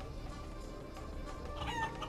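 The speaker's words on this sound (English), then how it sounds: "Random chicken." A cartoonish chicken clucks faintly in Guacamelee, a short burst of squawking near the end over a low steady game background.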